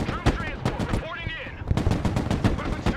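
Rapid bursts of gunfire from the video game Broken Arrow, sharp repeated cracks and machine-gun volleys with a short lull in the middle, loud and close.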